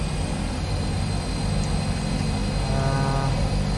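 Airliner engines roar steadily for takeoff at Pokhara airport, a loud continuous drone with a broad rumble that builds slightly toward the end, heard from inside the aircraft without talk.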